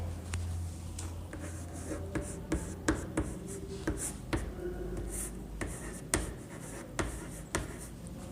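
Pen scratching on paper as a sentence is written out by hand, a run of irregular quick strokes and taps, close and fairly loud, with faint background noise.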